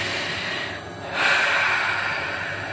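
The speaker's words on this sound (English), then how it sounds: "do you want to take a deep breath?" A single deep breath drawn in and let out close to the microphone during a calm EFT session, soft airy inhale then a louder exhale, with no talking.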